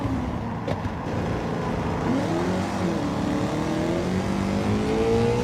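A race car engine in Gran Turismo 7 on a busy track, revving hard and continuously, with rising and falling pitch sweeps as it shifts through gears, loud and close.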